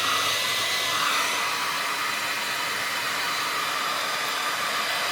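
A hotel-supplied replacement hair dryer blows at high speed, a loud, steady rushing whoosh that holds unchanged throughout with no talk.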